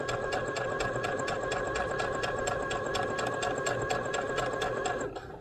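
A domestic sewing machine stitches the hem of a pair of comfy pants with a fast, even, mechanical whir and rapid needle clatter, loud and close, running steadily before easing off at the very end.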